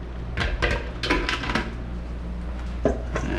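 Lettuce being tossed in a salad bowl for a vegan chik'n Caesar salad, a few quick knocks and rustling scrapes against the bowl over steady kitchen background noise.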